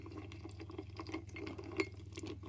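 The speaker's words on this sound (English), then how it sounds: "the ice in the glass. We're just going to gently stir it and just listen" Ice gently stirred in a glass, with soft clinks and faint liquid swirling at a steady pace, quiet and close over a low hum.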